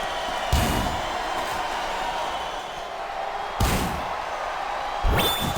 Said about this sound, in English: Chest first, right onto the security wall.